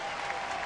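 Royals fans cheer and applaud at a 2009 Angels–Royals baseball game after Zack Greinke's 208th strikeout, second most by a Royals pitcher in a season; a brief, dense, steady wash of crowd applause.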